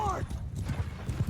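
Horses galloping in a Bannerlord video game battle, a rapid clip-clop of hooves pulsing steadily through the clip, with a short high neigh at the start and a voice talking over the top.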